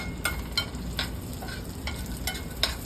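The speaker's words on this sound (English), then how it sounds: "So we're gonna utilize that oil that's in there and we're gonna toast off these nuts." Nuts toasting in leftover oil in a pan, a steady close sizzle broken by a few scraping stirs, with no voices.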